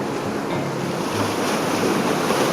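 Sea waves wash onto the beach at Buggerru, Sardinia, making a continuous broad roar of surf mixed with steady wind buffeting the microphone, loud and unbroken, with no speech.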